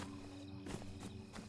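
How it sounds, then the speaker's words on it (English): A few footsteps from a character in the survival video game DayZ, set in Chernarus, land as soft thumps over a steady low game hum. "They can hear my footsteps."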